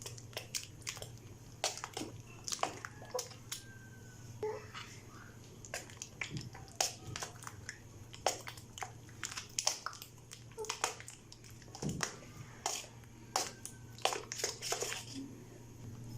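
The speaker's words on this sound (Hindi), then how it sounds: "अभी इनको अच्छे से मिक्स कर लेंगे।" Spices, mint chutney and roasted cumin get stirred into dahi vada, giving soft irregular wet clicks and squelchy taps from the spoon and bowl, quiet and close against a low background hum.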